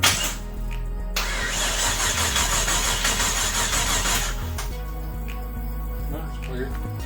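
A Buggie Blazer motor cranks and catches, then settles into a steady, rumbling idle with a low, throbbing pulse, close and fairly loud, and a voice speaks briefly over it.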